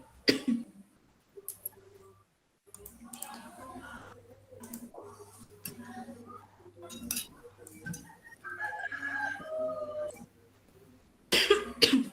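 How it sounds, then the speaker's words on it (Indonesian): A teacher coughs several times in a classroom, short harsh bursts scattered among quiet stretches, with faint clinks and a low steady hum underneath. "Maaf ya saya batuk-batuk anak-anak."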